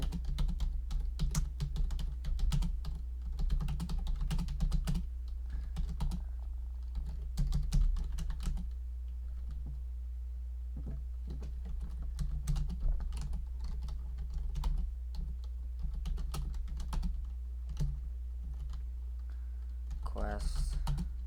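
Steady typing on a computer keyboard, close-up clicks rattling on continuously for about twenty seconds over a constant low hum.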